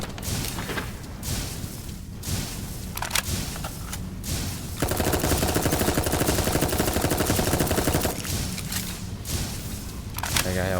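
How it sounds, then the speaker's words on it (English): Weapon fire in the video game Dolls Nest comes in loud, dense bursts, with heavy rapid shooting packed into the middle stretch. Harsh, booming shots crack in between, and short gaps separate the volleys. "let's let you get close so we can shoot you"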